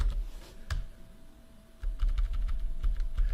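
Someone types a sudo command on a computer keyboard: a few scattered keystrokes at first, then after a short pause a quicker run of close, crisp key clicks.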